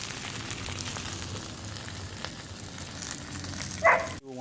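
Chicken parmesan cutlets sizzle and fry steadily on a Blackstone griddle, a close, continuous crackle with a brief louder hiss near the end and no talking.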